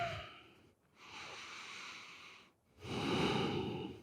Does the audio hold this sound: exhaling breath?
yes